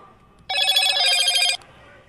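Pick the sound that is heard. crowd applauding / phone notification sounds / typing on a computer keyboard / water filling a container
phone notification sounds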